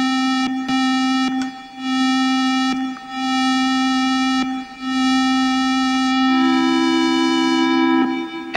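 Synthesizer notes with a slowed attack swell gradually into sustained, bright harmonic tones, repeated several times with short gaps, before a final higher note glides in and holds, loud and clean.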